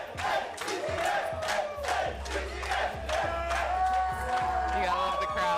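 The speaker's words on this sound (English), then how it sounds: "You gotta love the crowd though." Fight crowd roaring and shouting in a steady, dense wave of cheers and yells, loud and sustained throughout with rising bursts of excitement.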